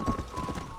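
Horse hooves clip-clopping in the video game Red Dead Redemption, a quick run of soft, close steps over a steady game hum.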